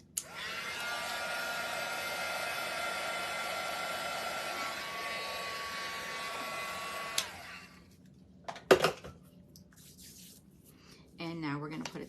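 A hair dryer blows steadily on a chunky crochet witch hat for about seven seconds and then cuts off, followed by a few handling bumps and a brief voice.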